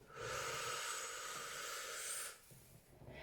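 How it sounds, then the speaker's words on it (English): A long, steady deep breath drawn in during an EFT tapping and havening exercise, a broad airy hiss holding for about two seconds before stopping, close and alone with no talk. "Grab the wrist, big deep breath in"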